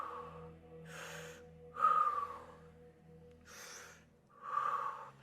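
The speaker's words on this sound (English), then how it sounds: "6 breaths." Deep, forceful breaths during a fascial stretching exercise, inhales and exhales alternating in a steady rhythm, close and fairly loud, with no talking.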